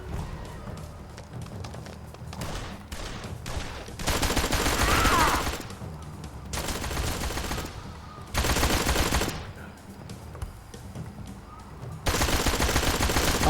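Gunfire in the detective game Blues & Bullets: repeated bursts of rapid shots and thumps in several loud volleys, with quieter gaps between them.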